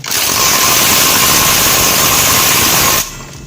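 A Nagawa NIC21K cordless impact wrench, upgraded for 320 Nm torque, hammers while tightening, a loud continuous rattling buzz for about three seconds that cuts off abruptly, close up with no speech.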